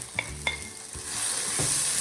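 Ginger and garlic frying in a pan for devilled prawns, a couple of sharp utensil taps followed by a steady hiss of sizzling oil, close and moderately quiet.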